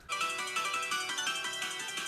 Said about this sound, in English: this was my phone ringtone for like nearly 7 years